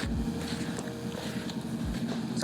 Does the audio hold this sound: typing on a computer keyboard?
no